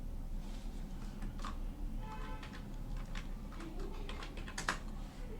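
An address being typed on a computer keyboard: scattered soft key clicks in irregular bursts, some quick runs and isolated taps, close and fairly quiet over a steady low hum.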